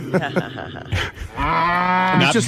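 A man imitates a cow with a long drawn-out mooing voice, loud and close, preceded by brief vocal sounds.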